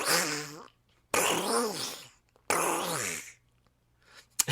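A voice imitates an old lady's fart with three drawn-out, quacking, Donald Duck-like blurts separated by short silences.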